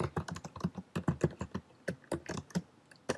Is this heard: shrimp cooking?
no